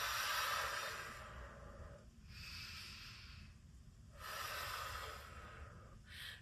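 Close, breathy exhales and inhales during a high kneeling side bend exercise, three long airy breaths with hissing onsets, no talk.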